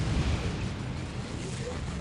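Plasma cannons fire in the Dawn of War strategy game, a dense continuous roar of blasts and rumbling explosions that fills the whole stretch at steady loudness.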